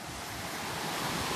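Surf washes onto a beach near Fraser's Hill in a steady, broadband roar, loud and close with wind buffeting the microphone and no distinct individual breakers.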